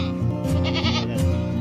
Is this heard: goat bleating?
yes